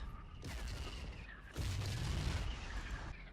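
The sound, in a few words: tank shelling in video game Battlefield 1942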